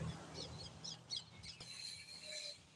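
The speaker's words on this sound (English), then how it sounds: "that little cute video right there of the bird chirping along" Faint, short chirps and tweets from a small bird come in a loose series over quiet background noise.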